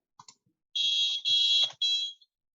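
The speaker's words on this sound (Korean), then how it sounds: "이렇게 소리가 잘 나시면 버저 연결 동작 확인하신 거예요" An electronic buzzer on a HaloCode board sends out three close, steady high-pitched beeps in quick succession, the middle one longest, after a few faint clicks, with no speech.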